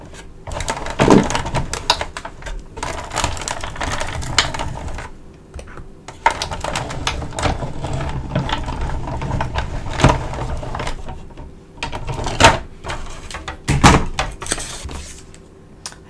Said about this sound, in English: I'm just going to line this up and run it through my Big Shot.